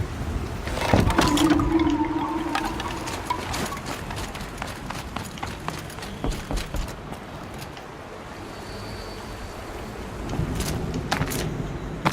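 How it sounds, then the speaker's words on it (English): Water rushing and splashing steadily in Horizon Zero Dawn: The Frozen Wilds, filling a channel beneath a bridge, with a continuous churning wash and scattered clicks and brief tonal game sounds over it. "Looks like it needs to fill up with water before I can cross."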